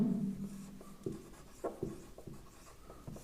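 Chalk or marker strokes on a board while a Gauss's theorem derivation is worked out, a steady series of short scratchy strokes and taps, close and fairly quiet, with no talk over them.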